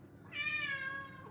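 A cat lets out a single drawn-out, fairly faint meow over a quiet low background hum.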